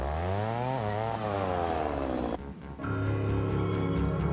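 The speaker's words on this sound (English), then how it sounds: "On flatter terrain, use the brush saw." Brush saw engine running on flat terrain during forestry juvenile spacing, a loud continuous motor whine that revs up, drops briefly near the middle and then climbs back to full speed.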